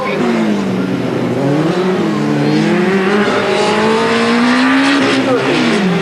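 A Formula SAE student race car from the University of Leeds drives on track, its engine holding a steady loud drone with rising and falling pitch through the corners while a commentator talks over it.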